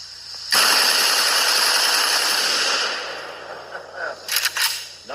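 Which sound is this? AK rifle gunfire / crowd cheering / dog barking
AK rifle gunfire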